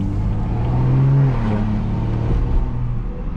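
A turbocharged 500 whp BMW B58 car pulls hard under boost, its engine note rising with a whistling turbo whine over a loud, close, rumbling exhaust.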